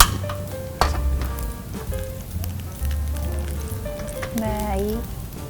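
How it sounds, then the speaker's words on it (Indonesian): Spices sauté in hot oil for nasi rendang in a hotel kitchen, giving a steady close sizzle and crackle, while people talk over it and light clinks sound now and then. "Sekarang kita langsung tumis ya."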